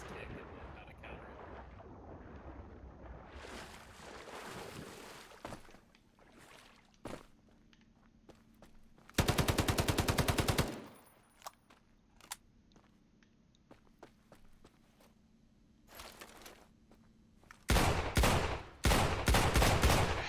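Gunfire in the video game Islands of Nyne, short bursts of rapid shots in separate clusters, a loud volley near the middle and another near the end, with quieter single pops between and occasional faint talk.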